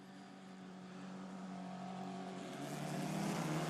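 A field of Formula 4 race cars accelerates at a restart at Monza, making a steady, rising engine drone that grows louder as the cars build speed, with no voices over it.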